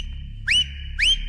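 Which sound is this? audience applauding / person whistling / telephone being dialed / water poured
person whistling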